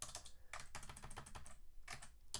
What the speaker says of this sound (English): while typing